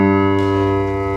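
A baritone voice holds a low G2 note, a steady buzzing tone rich in overtones that stays level for just over a second without any speech.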